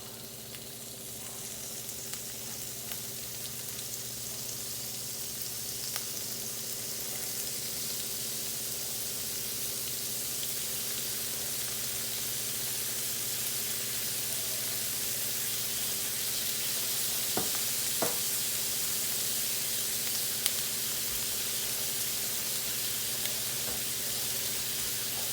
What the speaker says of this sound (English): I'm gonna brown my shrimps on each side